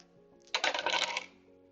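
Dice for the Euphoria board game rattle and clatter briefly on a table, a close bright burst of tumbling clicks lasting under a second before settling, without talk.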